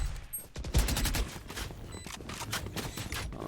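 Rapid bursts of gunfire from the video game Valorant during a tournament match, sharp repeated shots in quick sprays, fairly close and layered over game ambience.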